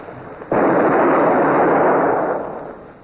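A ship's cannon broadside fires as one sudden deep boom, close and loud, then a sustained roaring rumble that slowly fades over a couple of seconds.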